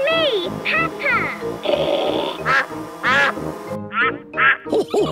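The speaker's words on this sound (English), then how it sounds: "Here is Mrs. Duck." A cartoon duck in a Peppa Pig episode quacks several times in quick bursts, its nasal calls loud and close over light background music.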